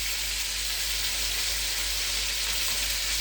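Meatballs sizzle steadily in a pan of sauce, a constant bright hiss with no pauses, close and fairly loud with no voices.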